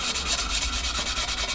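Wax is rubbed lightly over a wood surface, a continuous close, rhythmic scrubbing hiss with quick back-and-forth strokes.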